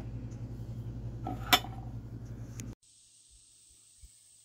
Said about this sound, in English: I'm going to put my little lid